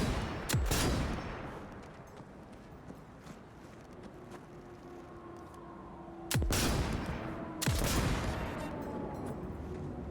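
Widowmaker, an iconic gun in Cyberpunk 2077, fires three loud separate shots, the first near the start and two close together later, with softer game ambience between.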